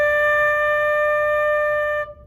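A flute holds a single clear, steady D note, sounding alone and loud for about two seconds before cutting off.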